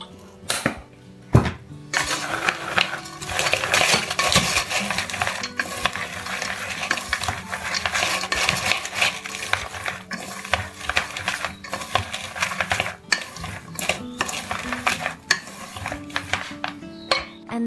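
Chives coated with cooking oil are stirred in a bowl, a busy stretch of close clinking, scraping and wet rustling, with sharp taps scattered throughout and brief pauses between strokes.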